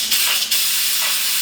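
Steam released from a pressure cooker in a loud, close, continuous hiss that holds steady throughout.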